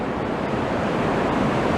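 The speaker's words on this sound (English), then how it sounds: "Look, the sea's coming in," Sea waves wash in on a beach, giving a continuous, even hiss of surf with a steady low rumble and no distinct breaking crashes across the short stretch.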